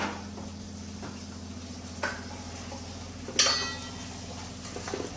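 Chole masala mixture stirred in a pan, with a steady sizzle beneath scraping spoon strokes and a couple of sharp metallic clinks against the pan, close and alone.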